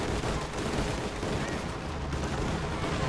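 A Soviet artillery strike lands in the real-time strategy game Company of Heroes 2, producing a dense, continuous rolling barrage of booming blasts and crackling impacts with no pause.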